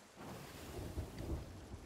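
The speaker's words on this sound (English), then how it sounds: "Yes, I see that we are in a storm." A thunderstorm in a treasure-hunting video game, with low rumbling thunder swelling twice beneath steady rain and wind noise, moderately distant and without talk.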